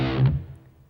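A distorted electric guitar strikes the open low E string in a short, heavy burst that rings out and fades within a second; a metal lick, with no talking.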